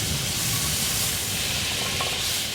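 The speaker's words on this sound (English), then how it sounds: "we're gonna throw some butter in the pan and we're gonna get to cooking" Butter sizzling in a frying pan, about to cook saltwater fish fillets; a steady, loud broadband hiss fills the whole stretch with no talk.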